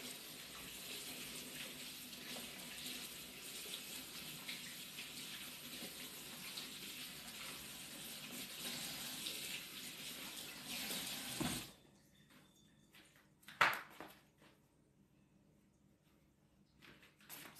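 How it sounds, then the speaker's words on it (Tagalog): Water runs steadily from a kitchen tap while hands are washed, a continuous broadband rush lasting about eleven seconds before cutting off, followed by a few faint clicks and clatters in a quieter room. "Hugas na tayo kamay."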